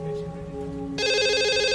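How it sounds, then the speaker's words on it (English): A telephone rings in a quiet room: a sustained bright electronic ring bursts in about halfway through, loud and close, following a softer steady tone, with no one speaking. "Just then, the phone began to ring again."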